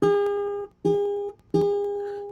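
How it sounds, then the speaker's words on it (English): Three separate plucks of a bright ukulele A string, each tone sustaining briefly and fading before the next pluck. "And your A string should sound like this."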